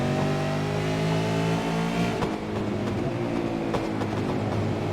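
Race car at the Charlotte Roval road course powering hard out of a chicane, a loud close engine climbing steadily through the gears with a brief lift around the shift before pulling on strongly.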